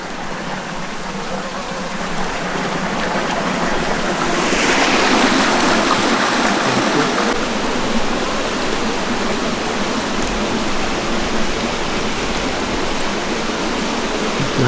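A river rushing along a moorland track on Rough Tor in November, a steady broadband roar of flowing water, loud and continuous throughout.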